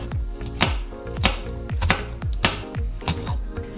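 A knife slices a large red chili into rings on a board, giving a steady series of crisp, evenly spaced chops close by over soft background music.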